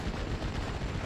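A rocket strike in the WWII strategy game Steel Division: Normandy 44 lands as a dense barrage of rapid, rumbling blasts and crackling impacts, heavy and continuous across the short moment.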